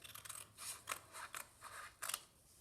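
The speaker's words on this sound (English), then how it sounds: "cut off a little piece of this." Scissors snipping through a small strip of craft material for a Red Riding Hood corner bookmark, a quick run of close, crisp cuts in uneven bursts.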